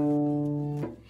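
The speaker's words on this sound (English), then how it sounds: "D is the next string on the cello, and D sounds like this." A cello's open D string is bowed in one steady, sustained note, rich in overtones and close to the listener, held for most of a second before it breaks off and a quieter tone trails after.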